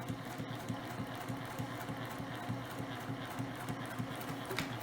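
A sewing machine stitches fabric for a small travel shoe bag, its quiet, rapid, even mechanical chatter running steadily throughout with no speech.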